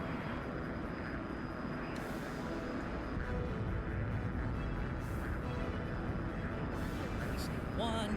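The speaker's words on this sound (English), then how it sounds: "Okay, good, engine's coming back." F-100D jet engine in the DCS flight game spooling back up, a continuous loud roaring whine with steady broadband rush, a voice speaking over it.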